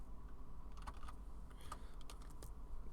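Clicking keystrokes on a computer keyboard, light scattered taps in small irregular bursts, close but quiet against a low steady background hum.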